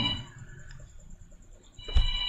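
Mobile phone ringing during a sermon, a steady electronic tone held across the moment with a short louder chirp near the end, over low room rumble, no talk.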